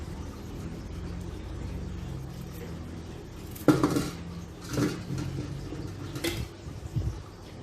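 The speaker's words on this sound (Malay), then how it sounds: "Sekarang saya nak potong carrot ini." Carrot being chopped on a cutting board in a home kitchen, a few sharp knife strikes against the board over steady low background hum.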